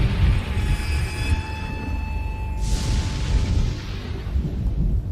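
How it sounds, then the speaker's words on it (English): A deep, rumbling roll of thunder from the video game Chaos on Deponia swells and spreads out, with a sharp crack partway through and a long low tail. A faint steady tone hangs over the start. "I'm afraid of thunder."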